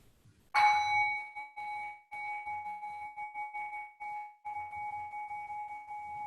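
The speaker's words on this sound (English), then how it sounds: "So I'll ring the bell to start" A meditation bell struck once at the opening of a Theravada meditation session, its clear ringing tone sustaining and slowly fading, alone in a quiet room with faint background murmur.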